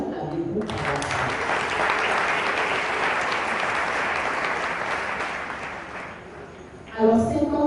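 A congregation at a parish mass in Biétry breaks into sustained, dense applause for the parish's 50th anniversary, steady for several seconds before fading as a voice resumes speaking.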